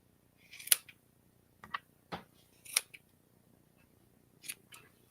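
Scissors snip thread loops on a handmade stuffed bunny in a quiet room: about half a dozen crisp, close cuts at irregular intervals, each a short sharp metallic click with brief pauses between.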